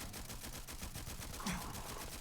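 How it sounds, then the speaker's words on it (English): AK000 weapon mod in Starfield firing a rapid automatic burst, dense regular shots hammering continuously throughout at fairly low level, with a brief louder impact near the end and no voices. "let me shoot this guy"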